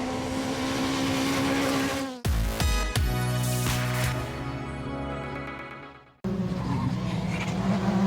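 A rally car spins out on a stage of the Barum Czech Rally near Zlín: the engine revs loudly, tires squeal and skid in sweeping pitch glides, then a hard cut leads to continued engine noise.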